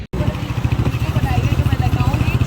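A motorcycle engine idles and putters close by while someone learns to ride, its low, rapid, uneven throb running steadily as people talk over it.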